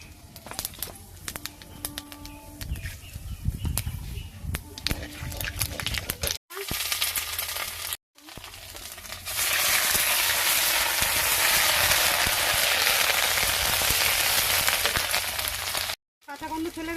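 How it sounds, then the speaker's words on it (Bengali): Whole spices, cloves and two cinnamon sticks, frying in mustard oil in a Bengali kitchen, a loud steady sizzle that takes over midway, with birds cooing and chirping earlier in the background. "ঝোলের জন্য কিছু মশলা কষিয়ে নেবো"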